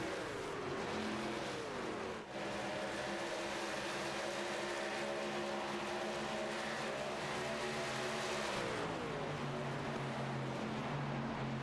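Race trucks roar around Atlanta in a loud, continuous engine drone, pitch sliding as they pass and shift, with a brief dip partway through and no talk over it.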